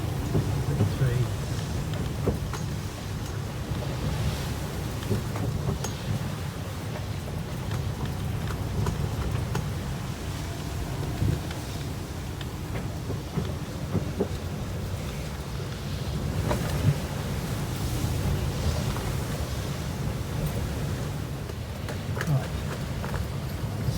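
Strong wind of around 30 knots and rain buffet a sailing boat at sea in bad weather, making a loud, steady roar with rumbling low-end gusts and scattered knocks throughout, and a voice talks over it.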